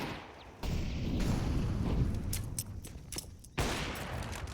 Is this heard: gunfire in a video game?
yes